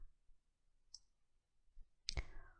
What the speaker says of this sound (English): I click in here